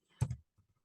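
A brief cluster of clicks from typing on a computer keyboard, one close, sharp burst followed by a couple of fainter taps in a quiet room.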